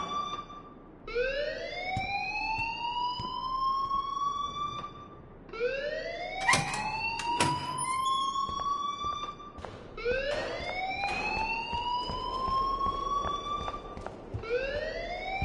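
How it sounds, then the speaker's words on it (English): In the video game Life is Strange, a wailing alarm siren climbs in pitch over and over in repeating sweeps for about fifteen seconds, with a few sharp clicks layered in. "please turn off that alarm since that's your job"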